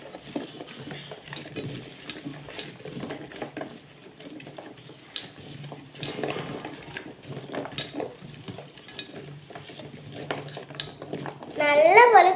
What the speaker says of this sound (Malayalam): നമുക്കിത് നല്ലപോലെ ഒന്ന് കൈ കൊണ്ട് മിക്സാക്കി എടുക്കാം.